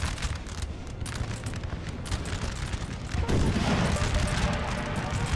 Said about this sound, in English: Oh, nice coordinated fire.